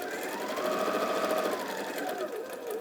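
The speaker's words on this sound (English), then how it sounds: "I'm just using 1/4 inch seam allowance with my Elmer 560" An Elmer 560 sewing machine stitches a quarter-inch seam through heart-print fabric, running at a steady, continuous hum close by for the whole stretch.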